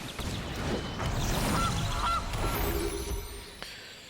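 A cartoonish goose honk from the Magic: The Gathering Arena video game, a couple of short nasal honks over a dense bed of game music and effects, clear and fairly loud.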